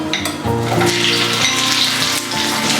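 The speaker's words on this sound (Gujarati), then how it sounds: "હવે તેમાં એડ કરીશું શેલો ફ્રાય કરેલા બટેટા." Shallow-fried potatoes go into a hot pan with sautéed garlic and a pinch of turmeric, giving a loud, close, sustained sizzle with a light clatter as they land, under a steady tonal background.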